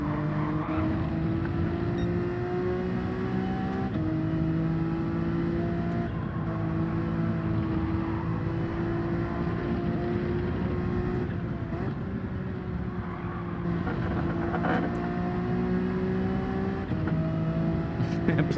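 A race car engine droning and climbing steadily through the gears in Gran Turismo 7, loud and continuous with rising and falling pitch through shifts, holding under a faint voice.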